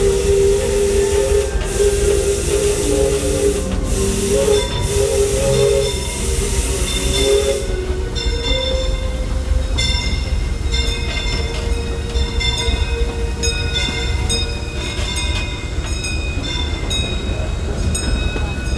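The Disneyland Railroad steam train runs loudly and continuously, with a long steam-whistle blast early on followed by steady rolling wheels and hissing steam.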